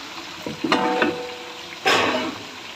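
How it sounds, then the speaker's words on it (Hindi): Garlic frying in a small amount of oil for tomato gravy, with a couple of sharp sizzling bursts as it is stirred and turned in the pan, close and fairly quiet, without talk. "लहसुन डालने का, फ्राई करने का अच्छे से"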